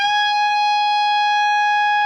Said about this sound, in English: it should sound like this note right here on the 18th fret.